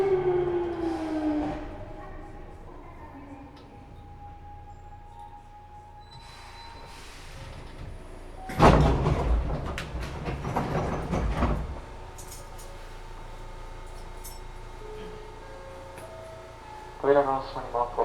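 A Hankyu 8000 series electric train pulls into Hanakuma station. A low rolling rumble and rising motor tones sit under recorded announcements, followed by a loud burst of hiss and clatter and a brief chime near the end.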